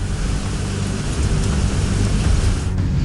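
Roaring surf on a stormy sea during Cyclone Amphan, a loud, continuous broadband rush with heavy low rumble, like wind-driven waves crashing close by, no voices.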